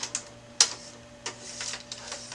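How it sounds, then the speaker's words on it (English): Plastic clicks and slides from the small green tab on a Brother HL-2240 DR420 drum unit being pushed back and forth, a few sharp close clicks with softer scrapes between them, alone. "There's this little green slide at the top of the drum. You're going to slide that back and forth 2 or 3 times,"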